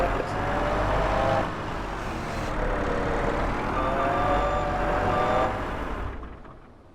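A vehicle backing up in a video game, its reversing alarm repeating steady high beeps over a loud engine drone and rumble, fading near the end, with occasional talk.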